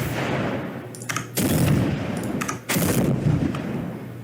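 Spear throws in a video game, each paired with an explosion: two heavy booming blasts about a second apart with crackling debris tails, loud and close, no voices.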